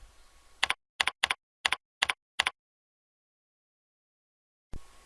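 A computer keyboard tapped in a quiet office setting: six short, crisp keystrokes in an uneven rhythm, close and clear, followed by a long silence and a final faint rustle.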